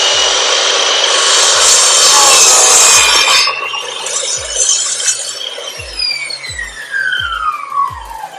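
A Metabo KGS 216 M mitre saw slices through a slightly warped wooden board, the blade's loud broadband whine and rasp lasting about three seconds, then fading into a descending spin-down as the motor coasts to a stop.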